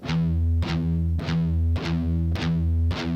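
Heavily distorted electric guitar chugs steady palm-muted pedal tones, struck in a regular pulse with bright accented hits roughly every half second, loud and sustained with no voices.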